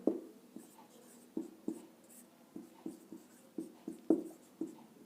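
Chalk or marker taps and scratches on a board during a chemistry lesson on hybridisation, sounding as a steady series of short, close strokes with brief pauses and no talk.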